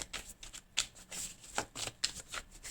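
Playing cards are shuffled and cut for a reading, a close, crisp series of quick riffling flutters and soft slaps in an uneven rhythm, nearly alone in a quiet room.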